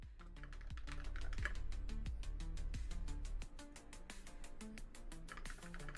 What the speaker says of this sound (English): he hasn't stopped typing one time